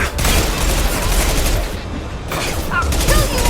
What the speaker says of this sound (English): Taking heavy fire!